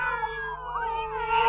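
A cat yowls in a long, wavering, drawn-out cry that rises and bends in pitch, loud and close, with no other sounds around it.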